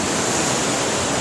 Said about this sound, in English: This river is at least 100 times the size that it normally is for flow right now